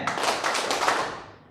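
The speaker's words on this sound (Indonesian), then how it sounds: "tepuk tangan dulu semuanya" A group of people, evidently a classroom, claps in a brief burst of hand clapping lasting about a second before fading out.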